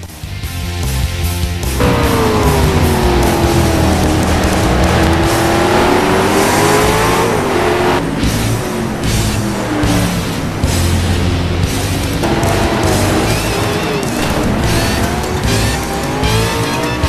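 A 2008 V8 Supercar driven by Warwick Brown screams through a hot lap of Barbagallo Raceway, loud close engine rising through gears with repeated shifts, downshifts and brief tire squeal, no talking.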